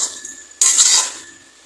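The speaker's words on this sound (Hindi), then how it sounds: "असें इसी चलाते रौह्ना कि जेह्ड़ा साढ़ा कद्दू है वो थल्ले ना लग्गे" A spoon scraping and clinking against a kadhai while pumpkin is stirred, one loud metallic scrape that fades over about half a second.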